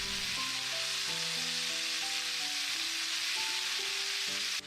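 Sliced leek and celery sizzle loudly and steadily in rendered bacon and sausage fat for a bean soup, a dense frying hiss with a gentle melody playing underneath throughout.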